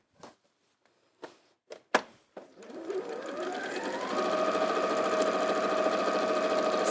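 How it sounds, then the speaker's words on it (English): A domestic sewing machine stitches fabric around a curve, starting with a few separate clicks and taps before settling into a steady, close whirring run that holds to the end. "So take your time going around curves, and maybe plenty of pins if you've got a piece this size"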